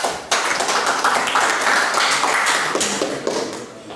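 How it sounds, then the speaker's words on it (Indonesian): Classroom applause for a student group presenting, a dense continuous patter of many hands clapping for about four seconds, steady and fairly loud before tapering slightly at the end. "Kita beri aplaus dulu untuk kelompok 3"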